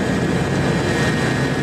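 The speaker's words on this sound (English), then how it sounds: "We took off at 4 in the morning aboard a Lockheed P-3 aircraft" Steady, loud drone of a Lockheed P-3 turboprop aircraft in flight, a dense engine roar with a constant tonal hum running unbroken throughout, no voices.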